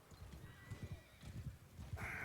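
A video game horse whinnies and neighs over a rhythm of clip-clopping hooves, with a sudden bright burst of game sound at the end.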